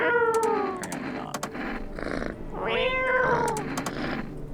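A cat meowing in the video game No, I'm not a Human, two drawn-out, tonal meows close and clear over a steady low background hum, with a few faint clicks between them and a short spoken remark.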